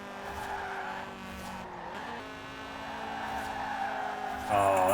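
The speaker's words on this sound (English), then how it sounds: "Oh, that was a sick drift." An original Honda Integra Type R drifts with a sustained, wavering tire squeal over a steady engine drone, rising louder near the end, close and continuous.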